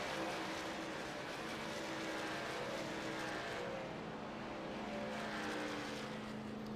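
Racing truck engines on pit road in the iRacing sim at Kentucky, a loud, steady droning roar with sustained engine tones that shift slightly in pitch, heard alone without talk.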